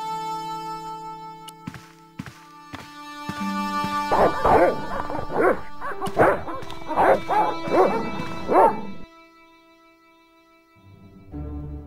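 Dogs bark in the Broken Sword: Shadow of the Templars video game, several sharp barks and yips in quick bursts, loud and close, with whimpers, over a steady musical background.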